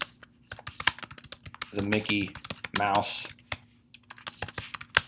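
Rapid clicking keystrokes on a computer keyboard tap away in quick irregular bursts, close and crisp, with a person speaking briefly over the typing.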